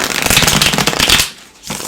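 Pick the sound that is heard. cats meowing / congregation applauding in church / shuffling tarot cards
shuffling tarot cards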